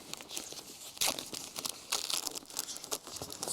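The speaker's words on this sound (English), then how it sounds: "I've given up the sellotape, we're just ripping it at the moment." Plastic and paper packaging around an FTL Lancer 2.8m jet being torn open by hand, close and crinkly, in several rough ripping bursts with no talking.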